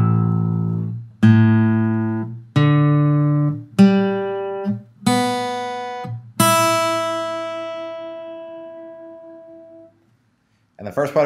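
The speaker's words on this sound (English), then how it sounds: "we're going to tune the E string down to an A" Guitar with the low E string detuned down to A, plucked repeatedly as the pitch drops in steps, each note ringing out and decaying, ending on a long sustained low note, heard alone.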